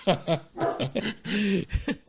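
A dog whimpers and barks in short, close bursts, with several yips and whines spread unevenly across the moment.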